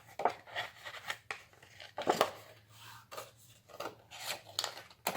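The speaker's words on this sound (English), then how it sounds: "you're going to cut a rectangle just a little bit bigger than that" Scissors snip through a paper rectangle in a series of short, crisp cuts with an irregular rhythm, close and moderately loud, with no voices.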